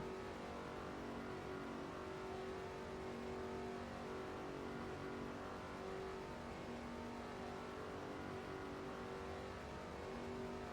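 Race car engines in NASCAR 07 drone steadily at a Craftsman Truck Series race, a continuous dense roar of several cars without talk, fairly quiet in the mix.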